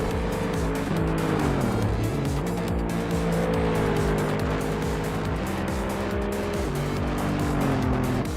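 Race cars in a racing video game, engines revving loudly and continuously with rising and falling tones as tires squeal through corners.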